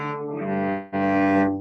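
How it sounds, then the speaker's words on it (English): Bowed cello open strings sound as long, deep, resonant tones, two sustained notes with a brief break between them, close and unaccompanied. "I have an A string, a D, G, and C, and they sound like this"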